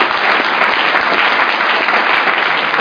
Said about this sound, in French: Acclamez pour eux.